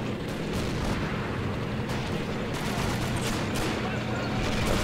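Tank and battle gunfire in the WWII strategy game Men of War Assault Squad 2 at Stalingrad: a constant loud wash of firing and rumbling explosions, with a voice speaking over it.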